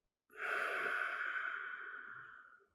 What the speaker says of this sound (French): inspirer par la bouche pour laisser passer l'air entre les dents. Puis fermer la bouche et expirer par le nez